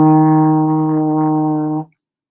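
A single sustained trombone note, E flat, played in third position, held steady and full for nearly two seconds before stopping cleanly, with a rich stack of harmonics and no other sound.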